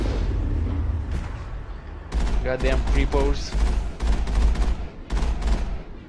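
Repeated heavy cannon blasts and gunfire bursts in a Mass Effect battle against Thorian creepers, loud and close, firing in rapid clusters with a voice cursing over the din.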